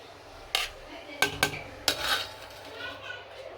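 A metal lid clatters onto a cooking pot while pilau and meat are being prepared, a few sharp clanks and taps spaced over a couple of seconds, close and distinct in a quiet kitchen.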